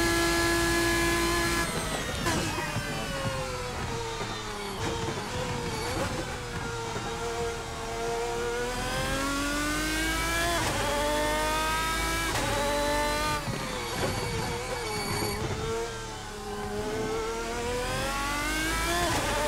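A GT race car in the Assetto Corsa driving game laps Le Mans, its engine revving high and sweeping up and down through repeated gear changes, loud and continuous for the whole stretch.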